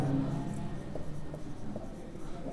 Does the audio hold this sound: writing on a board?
yes